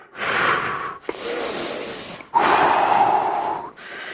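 Heavy, forceful breaths from someone on a brisk walking workout, with three long breathy gusts close to the microphone, each followed by a short pause.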